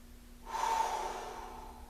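A deep breath is drawn and released during a yoga flow, a single long breathy exhale that rises suddenly and then fades gradually, close and soft, with no speech.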